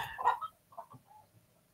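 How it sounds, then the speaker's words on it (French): Hens cluck close by in a few short, sharp bursts followed by softer, drawn-out clucks, with no talking. "je déteste entendre mes poules faire du bazar"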